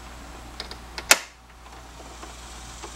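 A plastic AC vent on a 1986 Mustang GT snaps into its dash opening with one sharp, close click, preceded by a few faint ticks of handling and followed by quiet.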